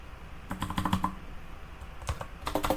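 Rapid bursts of computer keyboard typing during coding work in a Rust project, clusters of close, crisp key clicks separated by a pause, with no talking.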